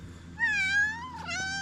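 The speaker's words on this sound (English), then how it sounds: "Cats need to get fed. Yeah, cats are dying of starvation" A hungry house cat lets out a single drawn-out meow, close and clear. The call rises, then wavers and trails off into a shorter second cry.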